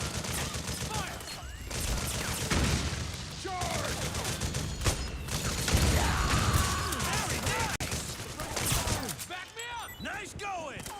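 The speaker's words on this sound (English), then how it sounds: "Another mounted gun up here" In Metal Gear Solid 4, a mounted gun fires heavy, rapid bursts amid other combat noise and a few booms. Game voices talk over much of the shooting.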